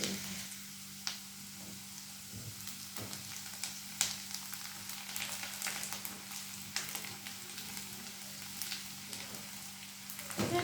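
Onions frying in a pan give off a steady, close sizzle with faint crackles and occasional stirring taps, continuing unbroken without any talk.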